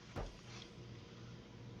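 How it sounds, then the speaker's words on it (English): Fridge door in the space-survival game Stationeers shutting with one short soft thud, heard over a steady low machinery hum. "Get the fridge door shut."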